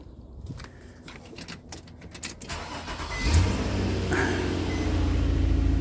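A 2007 Nissan Murano's engine cranks briefly and catches partway through, then settles into a steady, fairly loud idle that holds to the end, with faint clicks and rustling before the start.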